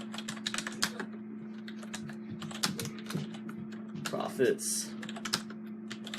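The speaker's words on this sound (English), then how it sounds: "I can't type and talk at the same time" Rapid clicking of fingers typing on a computer keyboard, close and steady in uneven bursts, with a person talking over it and a steady low hum underneath.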